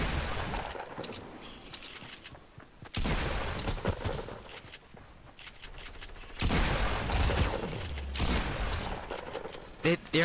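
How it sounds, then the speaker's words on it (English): Rockets fired in rapid succession in a Fortnite match burst as loud, dense volleys of blasts, with sharp onsets and sustained roaring gunfire-like bursts in waves. "this guy's spamming rockets."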